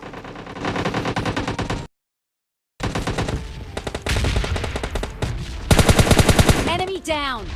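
Rapid bursts of automatic gunfire in the mobile battle royale game PUBG Mobile Lite, loud and close, broken by a brief silence and then returning in dense rattling volleys, with a whooshing effect near the end.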